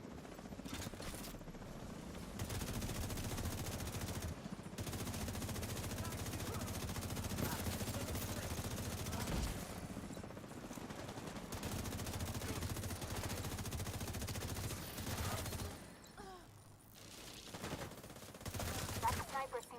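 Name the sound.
gunfire from favorite gun in video game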